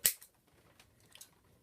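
An old electrical wire, folded in half, is snipped with a single sharp close-up cut, followed by a few faint small clicks, then near silence.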